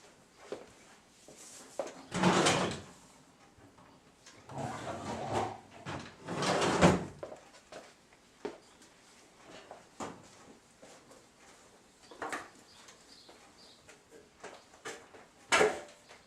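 Faint wooden knocks and sliding thumps come from a drawer being opened and rummaged through for a small envelope in a quiet room, in a few scattered bursts with pauses between.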